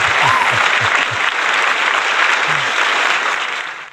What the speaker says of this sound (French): Voilà, on peut l'applaudir. Applaudissez-le derrière votre écran, vous aussi.